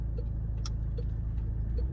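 Car engine pulling away from a junction in first gear as the clutch is slowly lifted and throttle increased, a steady low rumble close by with no clear rising rev.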